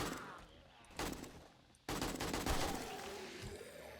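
Gunfire in the video game 7 Days to Die, with sharp shots at about one and two seconds followed by sustained rattling bursts that fade into a noisy tail. The shots sound fairly quiet, as if at a distance.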